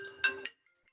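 A mobile phone rings with an incoming call from a plumber during a council meeting, giving a short bright two-note chirp that stops abruptly and is followed by near silence.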